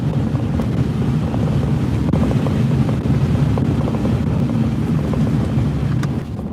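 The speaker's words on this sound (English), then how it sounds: "This is our gust front right here," A storm gust front roars across the Oklahoma panhandle stirring up dust, a loud steady rush of wind buffeting close against the microphone without pause.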